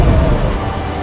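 A violent thunderstorm sent as a crop-destroying punishment: heavy, steady rain roars with a deep, rumbling thunder swell, loud and close throughout the brief stretch.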